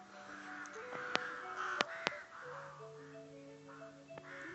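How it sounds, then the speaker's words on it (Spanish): Birds call outside, harsh crow-like caws and tonal whistles scattered across a few seconds, moderately distant over a quiet background with a few sharp clicks. "¿Se escucharán los pájaros?"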